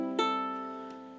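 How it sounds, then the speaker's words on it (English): Concert ukulele tuned with a low G string an octave down, strummed twice, a fuller, deeper chord ringing and fading steadily, heard up close with no other sounds. "it's one octave lower, sounds like this."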